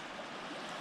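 Floodwater on the Verde River rushes past a tree, a continuous broadband wash of flowing water, steady and fairly close, with no voices.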